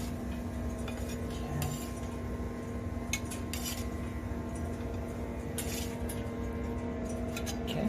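French toast slices being plated onto dishes in a home kitchen, with light clinks of cutlery and ceramic scattered over a steady low hum of background noise, no talking.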